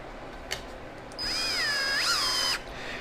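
A cordless power driver whirs up and spins for about a second and a half, its pitch sagging and rising as screws run into the plastic of a Viper ice auger's carburetor, close up and without talk.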